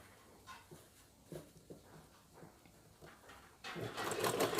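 A sewing machine stitching piping around the curve of a blouse, heard as quiet intermittent mechanical clicks and short runs, then a louder, denser burst of machine noise at the end, with no voices.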